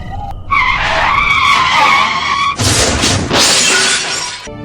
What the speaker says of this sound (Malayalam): ജാന്റെ കാർ നിയന്ത്രണം വിട്ട് ഒരു പോസ്റ്റിലേക്ക് ഇടിച്ചു നിന്നു.